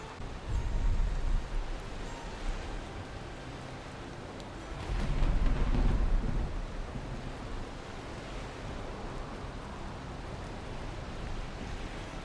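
A thunderstorm in the video game Valheim, heard as a continuous roar of wind and rain that swells loudly near the start and again midway before settling into a steady wash.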